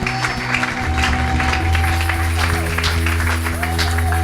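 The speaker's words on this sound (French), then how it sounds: "Acclamons très fort pour la gloire de Dieu" A church congregation at a worship service claps loudly and continuously in praise, a dense crowd applause with a sustained low hum of voices and music underneath.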